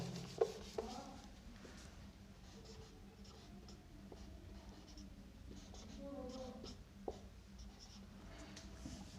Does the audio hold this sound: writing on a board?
yes